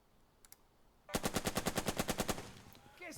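Rapid machine-gun fire rattles out in the WWII strategy game Burden of Command, a burst of about a dozen evenly spaced, close, loud shots after two faint distant pops.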